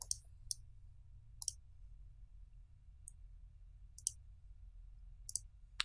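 Computer mouse clicks while testing a web page in a browser, sharp isolated taps spaced about a second apart over a quiet low hum, close and crisp.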